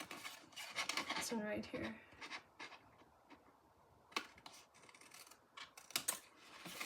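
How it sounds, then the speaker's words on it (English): Scissors snip through paper while a rectangle is cut from a treat box, with faint scattered clicks and rustles alongside a soft voice speaking briefly. "Cut that rectangle out."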